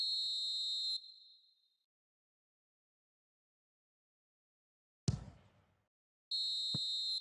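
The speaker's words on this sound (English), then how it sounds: "the half-time whistle goes" A referee's whistle blows in a PES 20 football match at half-time, two loud sustained shrill blasts separated by a pause, with a short thud-like crowd noise burst between them.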